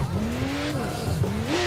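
Rear-wheel-drive car drifting in Assetto Corsa, its tires squealing in a long wavering screech over a steady engine drone, loud and close, with no voices.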